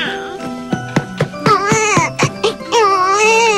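A toy doll cries like a baby with electronic wailing tones, loud and close, broken into short sobbing bursts and then a longer warbling cry, with faint tinkling jingles mixed in.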